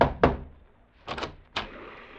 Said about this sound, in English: Slaughter rapped on the door.